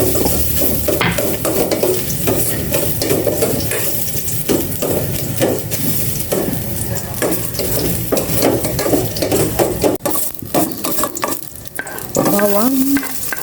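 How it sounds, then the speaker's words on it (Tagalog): Ginger sautés in a hot pan with a loud continuous sizzle, while a utensil scrapes and stirs the pan over the top, close and busy throughout. "Gisa ko na itong luya."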